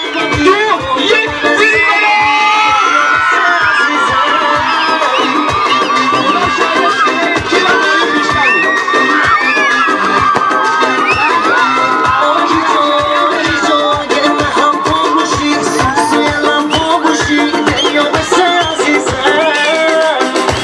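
A stand-up comedy show crowd at an Eid Ghadir event, with women ululating on cue: a loud, sustained, trilling chorus of high voices mixed with shouts and whoops, over a steady rhythmic beat throughout.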